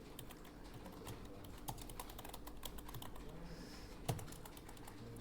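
Steady typing on a computer keyboard while entering an invoice in Notepad, a continuous run of close, light key clicks at an even fast pace with one sharper tap near the end.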